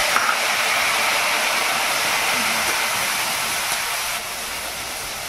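Steady, loud hissing sizzle of prawns dropped into hot oil with chilli in a pan, a continuous broadband frying sound that eases slightly near the end, with no talking.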